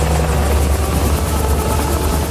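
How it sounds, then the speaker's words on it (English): A helicopter formed from a swarm of bees in the animated film Delhi Safari, giving a loud, steady whirring rotor drone that holds throughout without any voices. "a group of bees transform themselves into a helicopter"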